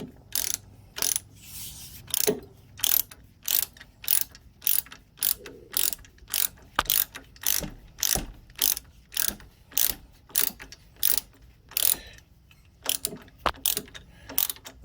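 Socket wrench ratcheting on the rear axle bolts of a Suzuki Jimny Gen 4 during an Old Man Emu lift kit fitment, a steady run of close, crisp clicking bursts repeating in quick strokes for the whole stretch.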